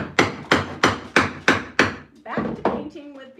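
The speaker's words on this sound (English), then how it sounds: "I just hammered it in, it's alright" A hammer drives a wooden dowel into an undersized hole during a cabinet makeover, six even, sharp wooden blows in a steady rhythm, followed by softer taps and a brief voice.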